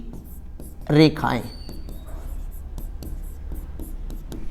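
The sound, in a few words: writing on paper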